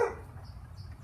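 A dog lets out a single short bark or yelp at the start, reacting to slingshot shots, then only a low background hum remains.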